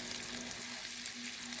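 Freeze-dried garlic sizzles in a pan of butter and oil, giving a steady close crackling hiss with a faint hum underneath and no voices.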